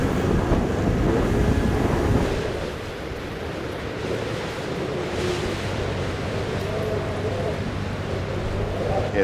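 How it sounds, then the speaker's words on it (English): Strong wind roars steadily across open ground, with a rushing, buffeting rumble from a snow-machine trip that stays loud throughout and eases slightly midway. "The wind is dying down."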